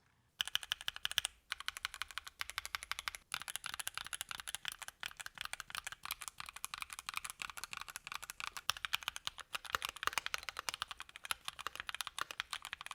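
Steady typing on a tape-modded mechanical keyboard, close and clear, with fast irregular keystrokes clacking muted and deep after a brief pause near the start, no voices.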